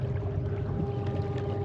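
A Haswing outboard engine pushes a fishing boat across a lake, a steady low electric hum with water swishing along the hull, continuous and fairly close, no voices.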